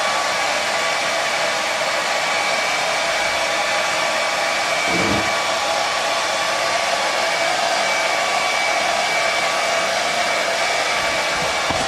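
A hair dryer blows steadily at close range to dry a pair of trousers, producing a loud, constant whooshing hum that never drops out, with no voices.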